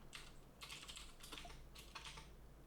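Keystrokes on a computer keyboard while a terminal command is entered, arriving in several quick bursts of clicky taps with brief pauses between them, close and fairly quiet, with no voices.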